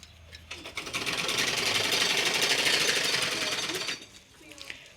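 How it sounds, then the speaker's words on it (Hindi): A sewing machine stitching curtains runs at a rapid, steady whir for about three seconds, close and loud, then stops, with faint household sounds around it. "तो पापा सिल रहे हैं पर्दे"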